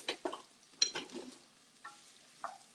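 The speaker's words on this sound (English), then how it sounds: "we're going to start by just sauteing, giving a quick saute to our asparagus" Asparagus dropped into olive oil in a pan and stirred for a quick sauté, with a few sharp scrapes and knocks followed by soft sizzling pops, close and fairly quiet.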